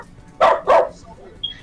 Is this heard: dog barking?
yes